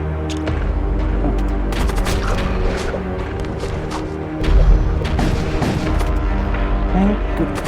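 Ship weapons firing in the space combat game Void War, dense rapid booms and crashing impacts, loud and continuous, with a heavier blast midway.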